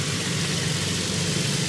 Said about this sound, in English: This is a 1961 Model D10, 28 horsepower. That's a beautiful tractor.